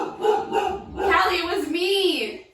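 A pit bull named Callie barks in a few sharp yips and whining bow-wows, close and loud over a couple of seconds, with people talking over her.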